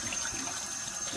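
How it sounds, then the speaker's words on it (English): Cold water runs steadily from a tap over a bare-metal cast iron pan just out of a lye bath, a continuous close rushing hiss with no talking. "So you want to hit cold water to help neutralize it."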